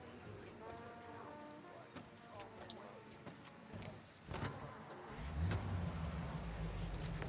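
In the Mafia video game, a car engine hums at a low idle, then swells into a louder, steady drive, with doors and mechanical clicks along the way and voices talking over the top.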